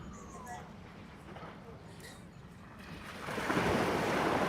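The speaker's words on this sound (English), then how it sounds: "this is getting the ocean sounds" Surf washing onto the beach on Catalina Island during a morning yoga class, a steady wind-blown rush that swells louder toward the end, with a faint voice in the background.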